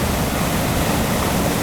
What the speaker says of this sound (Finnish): Veden pauhu on mitä mahtavin.